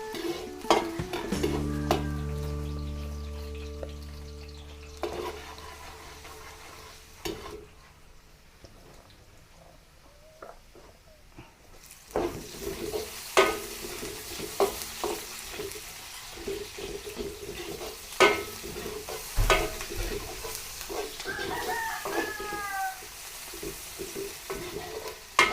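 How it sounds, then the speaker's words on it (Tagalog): Garlic sizzles and fries in hot cooking oil in a pan, with a hiss that comes and goes, a faint running tap early on, and scattered clinks and scrapes of stirring; no speech. "Igisa po tayo ng bawang"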